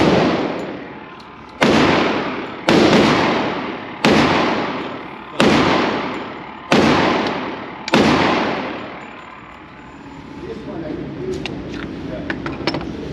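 Smith & Wesson M&P 10mm handgun fired outdoors with full-power Sig and Underwood ammunition: six loud, sharp reports spaced about a second apart, each trailing into a long echo, followed by quieter shuffling and handling noise.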